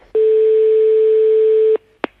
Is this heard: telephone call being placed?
yes